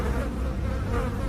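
A thick cloud of flies pours out of an opened door in a horror tale, a dense, continuous droning buzz that stays loud and close throughout with no voices.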